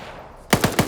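Video game gunfire from a military team rescue operation: a quiet lead-in, then a rapid burst of four sharp, loud automatic shots at an even rhythm, with no talk.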